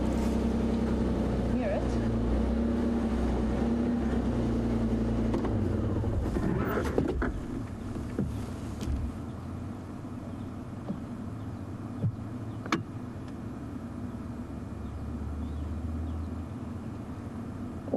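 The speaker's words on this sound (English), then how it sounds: "Here comes my vehicle." A safari vehicle engine rumbles steadily up close as it approaches on a morning wildlife drive, with a low drone throughout and a voice talking briefly over it.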